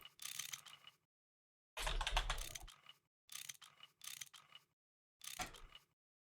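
Wrench tool sound effect in the Minecraft modpack GregTech New Horizons: five separate bursts of bright, clattering ratchet-like mechanical noise, each about half a second to a second long, with silence between them.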